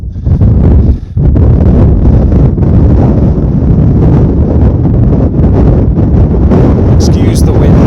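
Strong wind buffeting the microphone on the summit of Lingmell above Wasdale in the Lake District, a loud continuous roar with gusty surges and one brief lull, while someone speaks faintly underneath.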